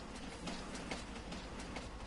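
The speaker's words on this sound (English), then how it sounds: "Oh, here comes the train now." Freight train rolling past in Farming Simulator 19, a steady dense rumble with faint rhythmic clicks from the wheels, continuous and fairly close, with no talk.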